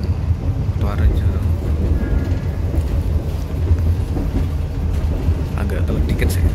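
A train running into Kutoarjo station on the Yogyakarta line: a steady low rumble and rattle of the rail cars with wind noise, loud and continuous throughout, with a voice talking over it.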